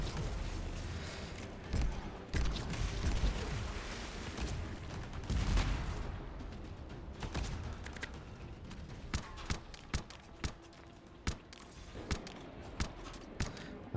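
Gunfire in the video game Anthem, a dense stretch of rapid shots and bursts early on giving way to sharper, separated single shots spaced about a second apart near the end, loud and close.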